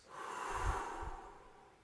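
A group breathing in and out together in an exercise, a soft airy rush with two low puffs close together, moderately quiet.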